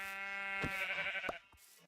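A Minecraft sheep bleats in a clear, nasal, wavering cry heard close and alone, followed by a second shorter bleat that fades out.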